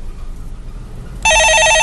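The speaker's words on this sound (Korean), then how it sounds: "네, 전화 받아보겠습니다" A telephone rings loudly with a steady electronic warble during a Korean stock-market call-in show, starting abruptly after quiet room tone and continuing to the end.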